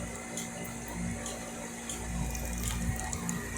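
Tap water runs steadily from a faucet into a small plastic bag, a continuous hissing splash with a faint mechanical hum beneath, close by and without speech.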